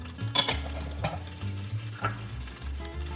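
Chopped red onions and small-chopped carrots tumble into a pan for a red lentil soup, with a few scraping stirs and clinks of a utensil against the pan over a low hum, close and moderately loud.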